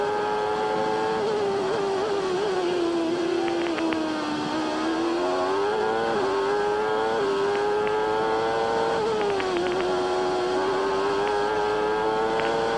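Onboard Riccardo Patrese's Formula 1 car during Friday qualifying in Portugal in 1993, a loud, high-revving engine whine runs without a break. Its pitch rises and dips with the gear changes, up close and alone.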